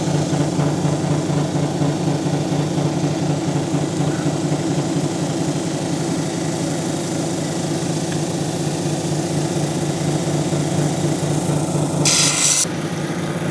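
Steady motor hum of a lapidary cabbing machine as a blue seam agate cabochon is ground against the wheel, a continuous rasping drone throughout with a brief brighter hiss near the end.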